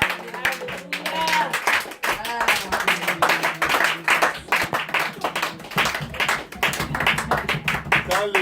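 A church congregation claps steadily and rhythmically in unison, dense and sustained, with voices cheering and a speaker talking through the clapping.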